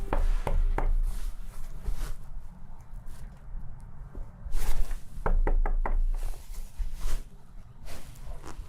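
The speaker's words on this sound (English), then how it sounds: "I have to knock about 4 times." Sharp knocks on a door land in short uneven bursts, a few raps at a time with pauses between, fairly close and moderately loud over a low rumbling background.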